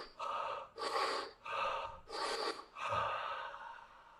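Energising breathing exercise: five forceful breath cycles, close and fairly loud, each a sharp rushing inhale or exhale through the nose and mouth, with brief pauses between and no talking.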